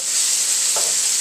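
Steak fries in a pan with a loud, steady sizzle, and a brief scraping stir rises midway through, close and unbroken by any voice.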